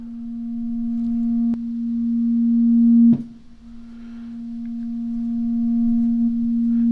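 A steady pure synthesizer tone from a modular rig swells slowly in volume, is cut off with a click, then gradually ramps up again, sustained and clean with no other sounds.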